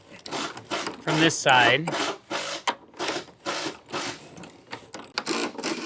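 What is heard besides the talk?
loosening a nut with channel-lock pliers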